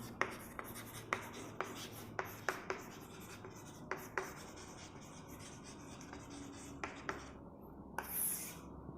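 Pen scratching across paper while a short Java program for adding two integers is handwritten, in a series of quick close strokes and taps with brief pauses, quiet and with no talking.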